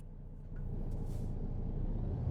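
A truck in American Truck Simulator reverses to couple a trailer: a short air-brake hiss, then a low diesel rumble that swells and holds steady, close by, with no talking.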